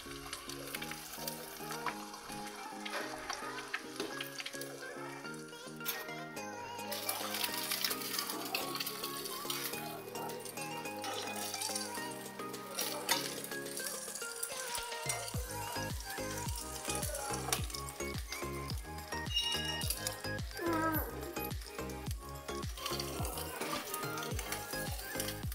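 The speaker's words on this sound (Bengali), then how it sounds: "ডালের তরকাটা মেরে নেবো।" Spices and oil sizzle loudly in a pan as a tempering is prepared for lentil dal in a home kitchen, a long continuous crackle with occasional stirring and utensil clinks, growing busier partway through.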